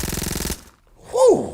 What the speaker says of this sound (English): Give me one more time with the gunshots, man.